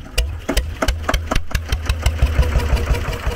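A SABB GA 12 HP air-cooled single-cylinder diesel engine starts up. Heavy thudding firing pulses come quickly one after another and settle into a rapid, steady chugging beat, loud and close.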